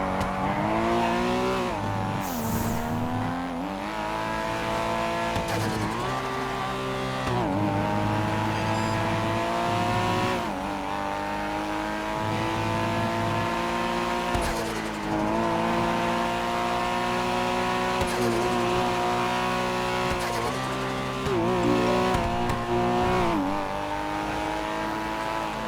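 A video game car driving with a continuous revving engine that rises and falls through gear changes, loud and close, with brief tire noise and no talk.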